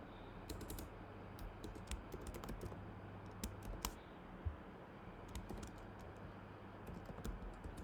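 Code is typed on a computer keyboard while building a SwiftUI iOS app, with quiet, irregular key clicks in short bursts and pauses over a low steady hum.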